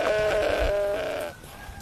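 A sheep gives one loud, close, sustained bleat lasting just over a second, its wavering tone fading into quieter farmyard background noise.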